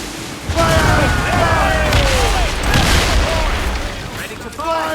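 Ship cannons boom in repeated volleys during a naval battle in the video game Assassin's Creed Rogue, loud and dense, with shouted commands and musical tones running over the blasts.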